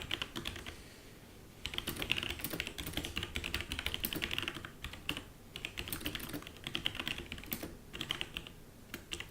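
Computer keyboard typing a comment about a game hero build, with bursts of quick close keystrokes separated by short pauses and no talking.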